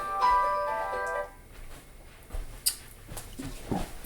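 A mobile phone ringtone plays during a Neovim coding session, a short looping electronic melody for about a second before it cuts off, followed by faint rustling and handling noises.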